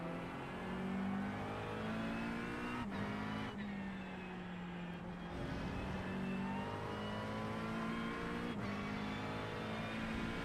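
A GTP prototype race car approaches and passes in a sim racing game at Spa, its engine note rising and falling over a steady drone of the player's own McLaren 720S GT3, with sharp gear shifts.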